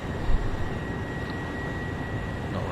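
A locomotive motor in Train Sim 2014 gives a faint, steady whirring hum with a thin sustained whine, droning evenly throughout without any voices.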